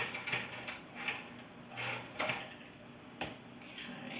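Sewing machine stitching through denim fabric, heard as a few faint, brief mechanical clicking bursts at irregular intervals against a quiet room.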